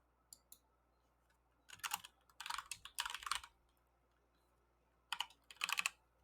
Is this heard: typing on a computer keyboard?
yes